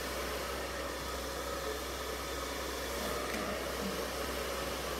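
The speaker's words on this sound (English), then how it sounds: "I think I just didn't blow dry this fully, so let me get a little bit more" A hair dryer blows on hair that is still half wet, giving a steady, even whooshing hum that runs without a break and stays fairly quiet and constant.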